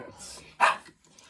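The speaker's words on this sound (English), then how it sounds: "And the dog doesn't like the dice, apparently" A dog at a tabletop wargame session gives a single sharp, close bark after some soft low sounds, then quiet.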